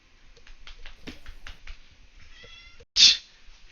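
A pet cat meows in a series of short, close calls, followed by one sharper, louder cry near the end.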